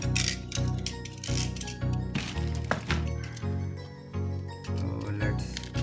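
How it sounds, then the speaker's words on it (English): Tape being cut on an Adidas Superstar sneaker box, with sharp scraping and snipping sounds plus crinkling cardboard in quick irregular bursts, close and fairly loud. "So let's cut the tape and remove the box."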